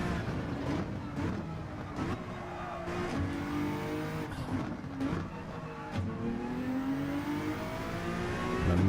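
A Gran Turismo 7 race car held at full throttle, its engine revving hard and climbing through repeated upshifts, loud and close, with a brief tire squeal mixed into the steady roar.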